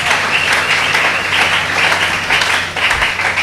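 A church congregation applauding loudly for the glory of God: steady, dense clapping from many people close by that holds for the whole stretch, with a faint voice underneath.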